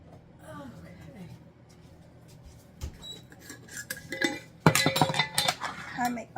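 Onion fritter batter is stirred with breadcrumbs in a bowl, a utensil clinking and scraping against the dish in bursts that grow louder and busier, with a person talking throughout.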